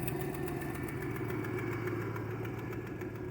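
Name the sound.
vehicle engine idling in four low, first gear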